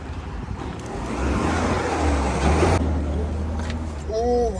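A car is moved out of the way on a street below, a low engine rumble that swells as the vehicle pulls away, steady and fairly close, with other traffic noise around it.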